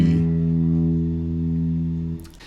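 A single open low E string on a guitar rings out once, a steady sustained low tone that slowly decays before being muted with a brief rustle at the end.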